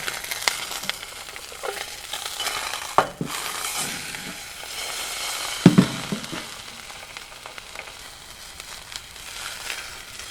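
Food sizzles steadily in a seasoned cast iron skillet, a constant crackling hiss with a few sharp knocks and scrapes from a flip, close and alone without talk.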